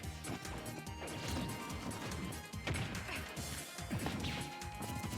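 Smash attacks landing in a Super Smash Bros. match between Zero Suit Samus and Steve, a rapid run of loud crashing and thwacking hits layered over busy game sound and crowd noise.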